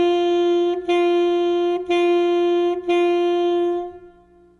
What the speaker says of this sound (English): On the note D, it will sound like this.